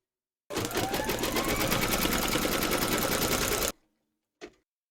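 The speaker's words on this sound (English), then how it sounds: "Load your thread colour for the nose into your machine and then stitch round number 8" An embroidery machine stitches a placement outline in a loud, rapid, continuous mechanical chatter for about three seconds, then stops abruptly, followed by one brief knock.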